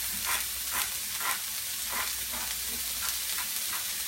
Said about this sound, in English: we've got an onion and some celery going, nice hot pan